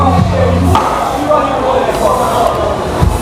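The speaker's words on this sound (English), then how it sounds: "So you want to press down and guide that knife through the middle bone." A knife presses through the middle bone of a fish at a Guyanese fish and meat market, giving a few sharp chopping knocks amid busy market chatter and nearby talking.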